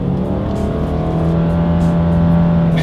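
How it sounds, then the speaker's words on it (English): A 2020 Subaru Forester accelerates hard, heard from inside as a loud, steady engine drone with rising pitch and a constant wash of road and wind noise throughout. "let's go ahead and do a quick little acceleration here, and let's see how quickly we can get the new 2020 Subaru Forester here up to speed"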